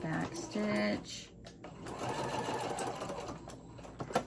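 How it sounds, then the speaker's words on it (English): A sewing machine runs short bursts while back stitching a seam on a Halloween-themed tote bag, quick starts and stops of the motor with someone speaking over the stitching. "To the end and back stitch"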